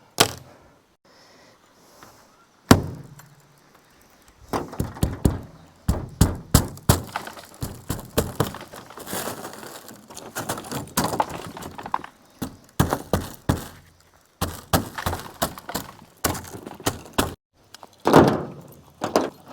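Spring-loaded car window breaker tool with a hardened metal tip striking glass repeatedly, a long run of sharp, close, loud snaps and cracks in uneven bursts after a couple of isolated hits.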